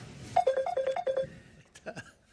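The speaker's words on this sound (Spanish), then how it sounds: "Sí, está tremendo ese teléfono, es el mío, ¿no? Te están llamando." A mobile phone ringtone chirps in a quick run of short, bright, repeated beeps, loud and close, followed by a brief trailing tone, with no talk over the ringing.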